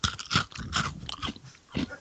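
Kix corn puff cereal being chewed close to a microphone, several crisp crunching bites in an irregular rhythm with short pauses between them, no talking.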